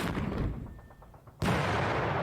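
Artillery shells strike units in the Panzer Campaigns wargame Scheldt '44, Battle of Moerbrugge: a muffled rumbling barrage fades to a lull, then one sudden loud blast erupts and roars on, close and heavy.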